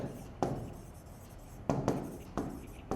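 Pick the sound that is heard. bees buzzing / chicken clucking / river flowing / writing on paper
writing on paper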